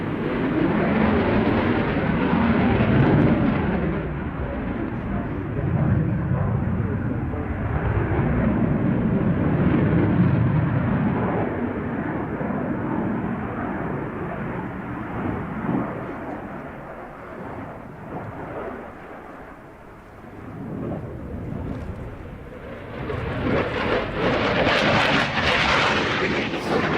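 A MiG-29 fighter jet's engines roar loudly at an air show, a broad steady rumble that swells and fades, with a harsher surge near the end.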